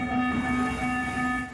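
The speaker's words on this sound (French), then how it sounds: "le métro est maintenant sur les rails, mais un peu moins rapide, il est toujours en phase d'essai" A Lyon metro line B train on trial running along the new extension gives a steady rolling rumble with a sustained tonal whine, close and continuous, with no speech.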